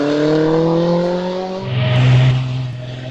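A GN Beetle vintage car climbs the Wiscombe Park hillclimb, its engine note rising steadily through the gears and swelling louder as it nears, then holding a strong drone.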